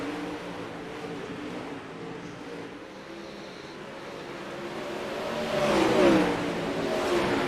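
A racing car engine revs in a sim racing video game during a B main race, a steady mid-pitched drone that swells louder and rises briefly near the end, with no talk over it.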